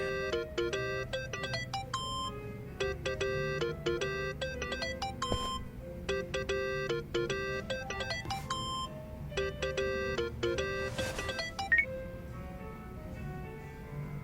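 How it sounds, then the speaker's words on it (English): A phone rings in Yakuza: Like a Dragon, a steady repeating ringtone melody of bright electronic tones that cycles on and off for several seconds over a low background hum. "Think that's your phone, man."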